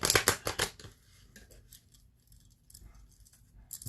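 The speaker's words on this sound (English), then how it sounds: "Let's pull a challenge card for you" Oracle cards shuffled and pulled from a deck: a quick burst of crisp riffling flutters, close and fairly loud, followed by softer scattered card rustles and slides.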